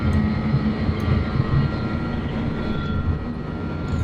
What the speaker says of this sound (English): The Jumbolino is airborne.